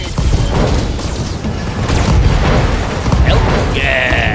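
A volley of mech weapons from the BattleTech video game fires loudly and continuously, with booming, crashing impacts and a sustained rumble, followed by a brief high whine near the end.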